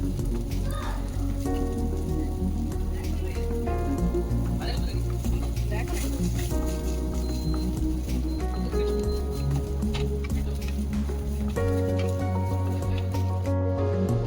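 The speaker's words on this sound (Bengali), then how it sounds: "কড়াইতে তেল গরম করে নরম করে রাখা যে সোয়াবিনগুলো সেগুলো একটুখানি আমি ব্রাউন করে নেব" Softened soya chunks brown in hot oil in a wok, giving a dense, continuous crackling sizzle with stirring noises, heard close up over faint background music.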